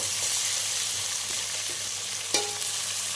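Biryani ingredients frying in hot oil and ghee make a steady, close sizzle, with quiet stirring scrapes and one sharp clink of a utensil near the end, and no talking.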